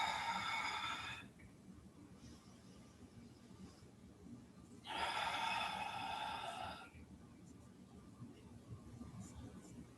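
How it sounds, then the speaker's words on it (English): Two long, deep breaths are taken during a hatha yoga practice. Each is a loud, airy rush with a quiet pause between them. "3 big open-hearted breaths here"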